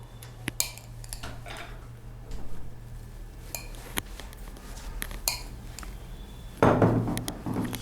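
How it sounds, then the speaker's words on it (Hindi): Chopped fresh salad vegetables, including desi tomatoes, are tossed together in a bowl, giving scattered close clinks and light knocks of a utensil against the bowl with a louder clatter near the end. "सभी चीज़ों को मैंने एक बाउल में डाल लिया और मैं आपस में मिला रही हूँ"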